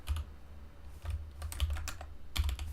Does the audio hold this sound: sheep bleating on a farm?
no